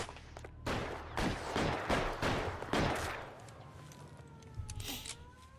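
Gunfire in a shootout in the video game LA Noire, a rapid burst of about half a dozen sharp shots over roughly two seconds, then quieter scattered shots and background game noise.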